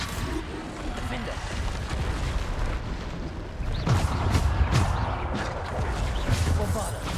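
The Bombarda blasting spell goes off in the wizarding game Hogwarts Legacy, with booming explosions rumbling over a dense layer of battle noise and a voice speaking through.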